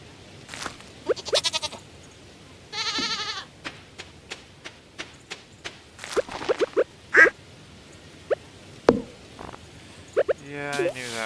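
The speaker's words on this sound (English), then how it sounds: "The duck was just swimming in the water." Cartoonish duck quacks from the Stardew Valley farming game, a scattering of short, bright calls mixed with other farm-animal bleats and clicks, moderately loud with brief gaps between.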